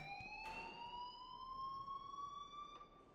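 Alarm blaring in the video game Life Is Strange: a faint, sustained electronic tone held steadily with a slight upward drift, with a couple of soft clicks and no voices.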